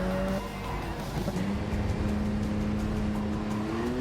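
A Ferrari Dino driving in Gran Turismo 7, a steady loud engine drone with rising revs and tire noise, sustained and close throughout.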